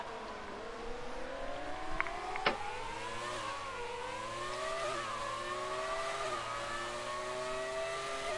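Race cars lapping a track in a Speed Force racing classic event in Canada, engines whining loudly as they climb through the gears, pitch rising and falling steadily with a couple of sharp clicks early on.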